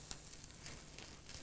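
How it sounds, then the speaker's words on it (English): Red cabbage sizzling in a very hot pan with softened onions, a steady bright crackle and hiss with no voices. "as soon as that's really, really hot, pile in the red cabbage"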